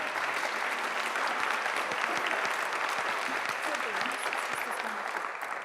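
An audience claps to welcome a speaker at a community health summit: dense, steady applause fills the room from start to finish, tapering slightly at the end, with faint voices underneath.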